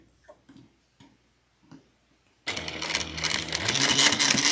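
Sewing machine restitching a clutch wallet's undone seam: a few soft ticks and taps, then a loud, steady close whir of the motor running continuously to the end.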